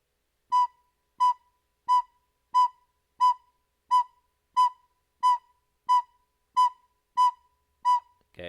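A recorder plays the note B as a run of twelve evenly spaced quarter notes, each a clean, short, pure tone separated by silence, close and steady.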